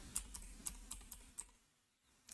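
Six or seven crisp key taps on a computer keyboard at a steady pace, quiet and close, then a brief lull before one more tap, with no one speaking.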